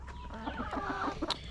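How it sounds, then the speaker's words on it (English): A nearby chicken clucks in a quick run of short, throaty notes close to the listener in a backyard flock setting. "So getting attacked by a chicken here."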